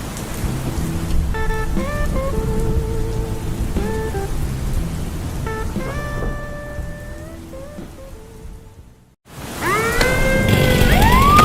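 Heavy storm rain pours steadily outside, a dense hiss with low rumbling underneath. A sustained tonal swell briefly cuts through before a short drop to near silence, and then the downpour returns louder.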